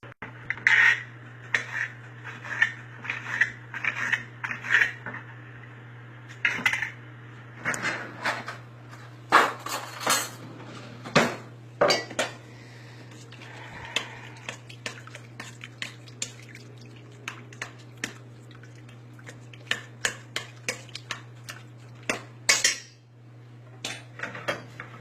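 Knife work on a cutting board while shrimp ceviche is prepared, heard as a long run of sharp clicks, knocks and clatters in irregular bursts over a steady low kitchen hum, with no talking.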